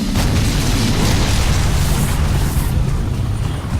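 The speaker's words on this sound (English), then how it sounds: "Oh, it's gonna fire rockets." Rockets fire and explode in the zombie video game Dead Rising, a dense, continuous roar of booms and bursts that stays loud and steady throughout, with no clear gaps between blasts.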